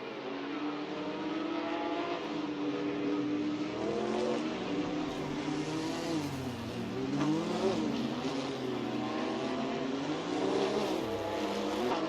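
Race cars in Assetto Corsa, including a Mercedes, roar down the front stretch of a race weekend, several engines revving and shifting in a dense layered drone with rising and falling pitch as they accelerate.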